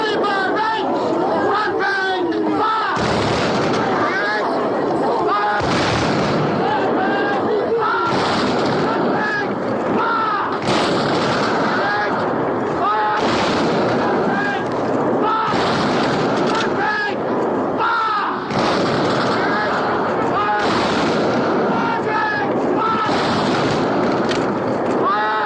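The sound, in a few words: sound of battle with artillery and gunfire in a film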